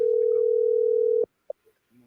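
A steady, unbroken telephone dial tone hums for just over a second on a call that goes unanswered, then cuts off abruptly, followed by a brief click and faint background noise.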